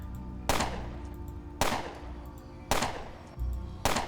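Gunfire in the video game Underrail during bullet time: five heavy, booming shots spaced about a second apart, each a sharp crack trailing into a decaying rumble.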